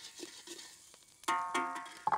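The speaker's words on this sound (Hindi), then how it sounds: "अदरक लहसुन का पेस्ट जब तक भुनता है" Ginger garlic paste fries in ghee with onion, cumin and whole spices, with light stirring scrapes and clinks building into louder sizzling bursts and a sharp knock near the end.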